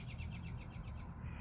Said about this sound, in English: oh, and there's a bird